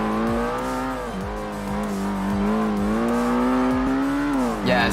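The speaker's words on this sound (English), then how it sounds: "one of my favorite engines is the Yamaha V6 from the SHO." Yamaha V6 engine of a Ford Taurus SHO in the Ford Racing video game, holding a steady high rev with brief pitch dips at gear changes and a rising whine near the end, loud and continuous without talk.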